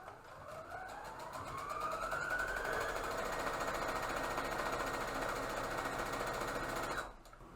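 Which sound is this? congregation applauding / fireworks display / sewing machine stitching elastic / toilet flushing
sewing machine stitching elastic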